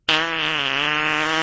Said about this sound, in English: Computer, I want to hear an angry fart.